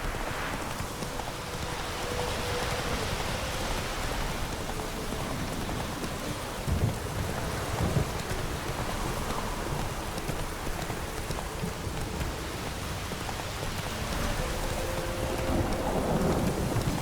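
Steady rain falls through a thunderstorm in The Witcher 3, with low rumbles of thunder and lightning strikes, plus the clip-clop of a horse's hooves beneath the downpour.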